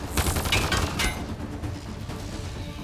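Sci-fi weapon fire in the game Mass Effect: Andromeda, a dense burst of rapid shots and impacts in the first second, then a lower rumble of combat continuing without speech.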